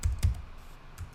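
A few crisp keystrokes on a computer keyboard as a command is typed into the Windows Run box: two firmer taps close together, then lighter clicks spread over about a second, close and fairly quiet.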